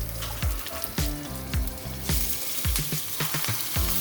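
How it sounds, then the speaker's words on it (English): Beef searing in hot oil in a pan, a steady loud sizzle and crackle with repeated scraping clatters as the meat is added and moved around. "Get it nice and hot. And then start adding your beef."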